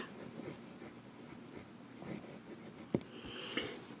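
Retro 51 Lincoln fountain pen with Cross Black ink writing on paper, giving a faint, soft scratching that runs steadily throughout, with a couple of brief louder taps near the end.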